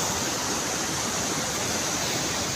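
Water rushes steadily through a full canal, a dense, even hiss of flowing current that stays constant and fairly quiet throughout, with no voices heard.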